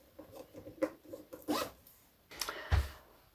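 A zipper on a piped, sewn-in zipper pocket is handled up close, with soft rubbing and short scraping zips in a few quick bursts, fairly quiet and with no voices.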